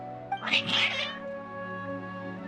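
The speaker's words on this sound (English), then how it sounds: "Your cats seem pretty worked up." Several cats meow in Genshin Impact, a few agitated, overlapping calls over about half a second, clear and close above a steady low music bed, then fading into the ambient tone.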